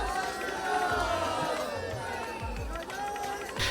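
A huge crowd of bathers gathers at the Sangam riverbank during the Basant Panchami bathing festival. A dense, continuous murmur of many voices carries over low thumps and bursts of louder shouting.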